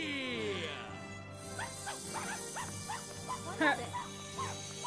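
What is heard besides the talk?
dog barking in the video game Ni No Kuni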